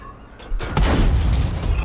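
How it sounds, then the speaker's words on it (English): A tank cannon fires in World of Tanks, a heavy booming blast that jumps up after a brief lull and rolls on with a thick, lingering rumble. "We bounced the kill shot off his upper plate."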